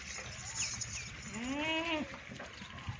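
A herd of goats, 25 animals including 2 breeders, bleats over a steady murmur of farmyard noise. One clear wavering bleat rises in the middle of the clip.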